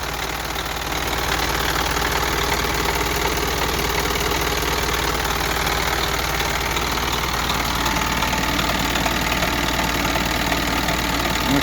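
An Isuzu truck engine idles steadily close by, with a faint, strange knock running through its rough, even rumble.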